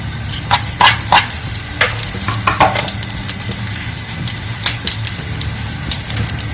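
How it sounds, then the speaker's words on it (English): Mustard seeds pop and splatter in hot coconut oil, giving sharp irregular crackles and bursts over a low, steady sizzle, close and moderately loud with no voices. "Now the mustard seeds, once it's getting to splatter"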